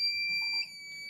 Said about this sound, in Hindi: पीसीबी ऑन नहीं हुई, लेकिन इसके अंदर एक लंबा बीप आ रहा है।